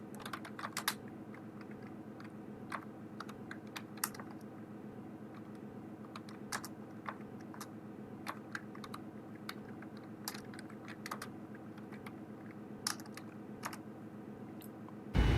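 Steady keyboard typing in a cockpit flight-simulator setting, with a continuous run of light, irregular key clicks over a low, constant cabin hum, close and clear with no talk.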